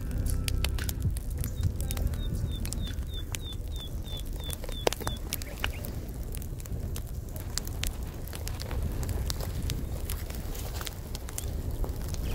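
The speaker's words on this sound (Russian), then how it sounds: "Костер мы развели." A campfire burns in a forest, crackling with sharp irregular pops over a steady soft roar, close by and without voices; a bird chirps briefly in the background.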